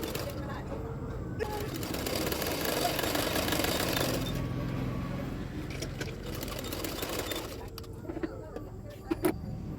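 Sewing machine stitching two blouse parts together, a steady mechanical whir running for about four seconds and then stopping, with someone talking over it and through the quieter stretch that follows.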